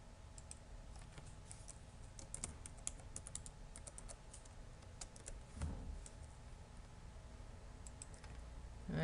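Steady typing on a computer keyboard during a programming session building a GUI form, quick light key clicks running continuously for several seconds, close and soft, no voices.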